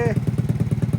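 A heavy motorcycle idling close by in a village, its engine thumping out a steady, rapid low-pitched pulse, with a brief voice at the very start.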